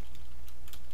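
Quick bursts of keystrokes clatter on a computer keyboard in a short, close, uneven flurry, with a low steady hum underneath.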